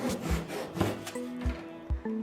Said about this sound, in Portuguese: Eu gosto de usar muito serrote japonês, então vou usar ele, tá? E você corta.